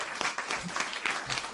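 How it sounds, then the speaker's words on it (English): Studio audience claps to welcome a guest on a live podcast, a short burst of steady applause with brief voices mixed in. "thank you for the applause and thank you for the warm welcome"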